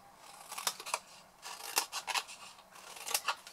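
Scissors cutting small wedges into paper corner tabs, a run of quick close snips in short bursts with brief pauses between them, alone and fairly quiet.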